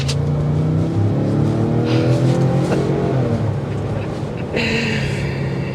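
A 2024 Ford Expedition Timberline SUV, not a V8, accelerates hard with a loud, steady engine roar that climbs in pitch before a shift, heard from inside the vehicle with no talk over it.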